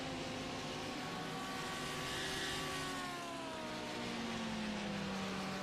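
Engines of a BMW and a Porsche 911 GT3 in a sim racing GT sprint at Oulton Park, a steady distant drone with rising and falling engine tones.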